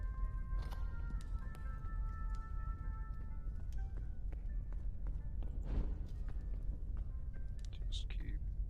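Mummy footsteps in the horror game Forewarned, a run of soft, repeated thuds under a constant low rumble and speech, with a few brighter clicks and scrapes scattered through.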